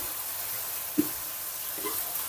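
Chicken frying in a pan, cooked for a tomato sauce dish, gives a faint, steady sizzling hiss with one brief soft click midway and no voices.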